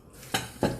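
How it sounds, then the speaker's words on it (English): Two quick clattering knocks about a third of a second apart, like a chopping board bumped against a sink or dish while being washed, close and fairly clear against a quiet room. "I'm washing my chopping board."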